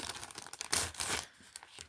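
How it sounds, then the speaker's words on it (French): Plastic packaging crinkles and tears as scrapbooking embellishments are unwrapped, with close, uneven bursts of rustling and a louder ripping stretch midway before quieter crinkles. "Donc, je les déballe."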